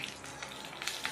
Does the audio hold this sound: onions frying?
yes